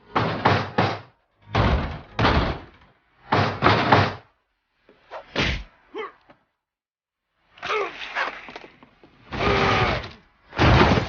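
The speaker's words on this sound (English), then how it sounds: "Molly's door hadn't been opened in years. The hinges groaned." An old, long-unopened door in What Remains of Edith Finch creaks and groans on its hinges in repeated drawn-out bursts with gaps of silence between them.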